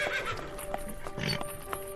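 A horse sound effect: a few clip-clopping hoof strikes and a brief neigh over a faint background, short and fairly close.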